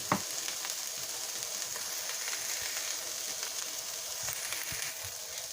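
Onions frying and caramelizing in a pan give a steady, close sizzle with crackling pops and the occasional scrape of stirring, with no talking.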